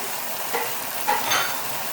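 Grated carrot and finely chopped cabbage stirred in a hot pan, a steady soft sizzle with brief scraping swells of the spatula, alone without talk.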